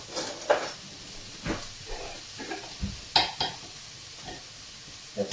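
Vegetable cobbler ingredients are stirred in a pan with dried oregano, a series of soft scraping strokes over a faint sizzle, the utensil knocking lightly at irregular intervals, with no voices.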